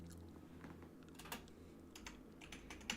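Close, quiet typing on a mechanical keyboard, with irregular bursts of sharp key clicks over a low background hum and no talking.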